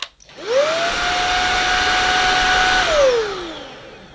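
A Sebo Balance A1 cordless vacuum cleaner motor spins up quickly to a steady high whine, runs evenly for a couple of seconds, then winds down as it switches off, loud and close.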